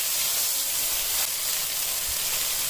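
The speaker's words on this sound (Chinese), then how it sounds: "放入青椒丁和洋葱丁，油里面过一下，10秒钟左右就行了。" Diced green pepper and onion fry briefly in hot oil in a heated wok for General Tso's chicken, giving a steady, close hiss and sizzle with no voices.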